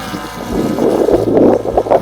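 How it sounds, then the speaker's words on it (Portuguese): Strong wind roars loudly across the microphone beside a hovering drone by a river, a continuous rushing buffet with low gusty rumbles and no voices. "Aqui vocês devem estar escutando um barulhão, mas o vento tá forte e ele tá parado no lugar."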